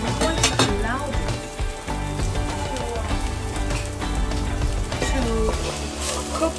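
A small amount of onion sizzles and fries steadily in a pan, a dense, close crackle with scattered sharper pops and occasional clinks from stirring throughout.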